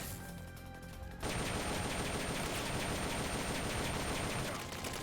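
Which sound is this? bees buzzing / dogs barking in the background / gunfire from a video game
gunfire from a video game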